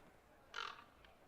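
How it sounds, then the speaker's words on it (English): One of Leliana's crows in the video game Dragon Age Inquisition gives a single short raspy caw over a soft background hiss, followed by a faint echo-like trace. "It's one of Leliana's crows."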